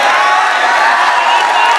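A seated audience at a campus vice-presidential candidate speech event cheers loudly and continuously, a dense close wash of crowd shouting and whooping with no pauses.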